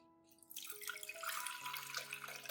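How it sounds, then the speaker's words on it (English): Cooled potato peel liquid is poured through a fine sieve: a steady trickle and splash of liquid that starts after a brief pause, under soft background music. "strain it through a fine sieve, removing all of the solids and keeping only the clear liquid"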